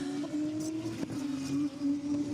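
Formula 2 race cars at the Hungarian Grand Prix feature race hold a steady buzzing engine drone at high revs, loud and continuous, with slight pitch swells as they get back up to racing speed.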